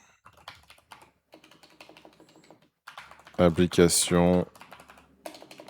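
Typing on a computer keyboard during a website search, with brisk bursts of key clicks running through the clip and a voice speaking briefly in the middle.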